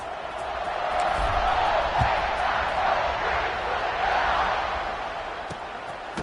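Steady stadium crowd roar from a football video game during a kickoff after a touchdown, a broad continuous wash of cheering that swells and holds throughout, with no distinct voices.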